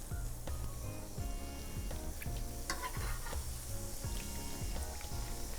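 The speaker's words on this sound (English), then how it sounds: "These are going to fry up beautifully golden." Donut dough fries in hot oil with a steady, close sizzle. Scattered ticks and clinks from stirring or turning rise above the hiss.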